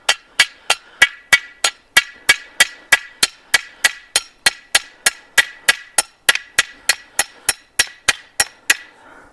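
A steel T-post is hammered into rocky garden soil over landscaping fabric for a tomato trellis: about two dozen sharp metallic bangs in a fast, even rhythm, close and loud, with no talking.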